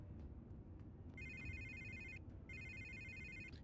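Phone ringing in the video game Batman: The Telltale Series, two bursts of electronic trilling tones, each lasting about a second, set over a steady low background hum.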